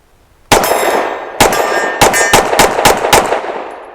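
Rapid pistol fire from a custom Sig P320 at a shooting range: six or seven loud, sharp reports in a fast, slightly uneven string, each with a bright ringing tail, heard alone without talk.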